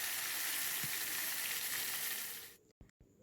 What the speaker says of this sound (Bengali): তো সেই জন্য মাছগুলো ভেজে নিচ্ছি।